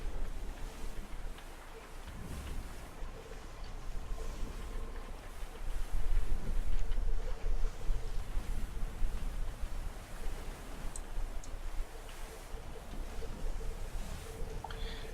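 A ship sailing at sea in the strategy combat game Abandon Ship, heard as a continuous wash of waves and wind with a low rumbling swell, steady and moderately loud with no distinct events.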